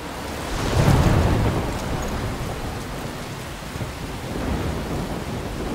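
A thunderstorm in the video game Life is Strange, with steady, heavy rain hissing throughout and a deep thunder rumble swelling early before settling back into the downpour.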